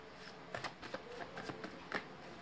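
Oracle cards being shuffled and drawn by hand during a tarot reading, a run of quick papery riffles and soft flicks close up, irregular in rhythm and fairly quiet.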